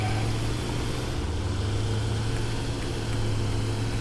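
A tractor drives along in the factory-building game Satisfactory, its steady engine drone a continuous, even hum with no breaks or other sounds over it.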